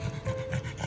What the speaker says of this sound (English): She's just laying here panting.